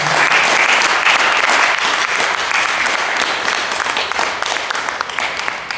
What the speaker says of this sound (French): Est-ce qu'on peut acclamer le Seigneur ce matin?